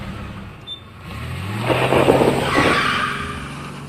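A car engine starts and revs up, then the vehicle accelerates away with a rising roar and a brief tire squeal, loud and close, with no voices over it.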